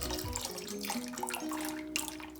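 Coagulant pours into hot, roiling soy milk for tofu as a brief close liquid trickle and splash, with faint tonal ringing under it and no voices.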